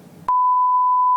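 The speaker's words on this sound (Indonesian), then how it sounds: "Ntar kalau ada kata kasarnya di bip aja." A steady, loud censor bleep tone cuts in abruptly over a swear word after a short moment of muffled background, holding unbroken to the end.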